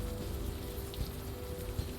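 Steady rain in the video game Unavowed, an even wash of falling drops at low level with no voices.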